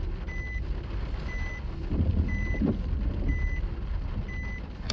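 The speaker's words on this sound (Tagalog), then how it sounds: "Kung napapansin nyo, paurong ako mag-park" Reversing beeps sound at a steady, regular pace as a long vehicle backs into a parking spot, with a low engine rumble underneath throughout.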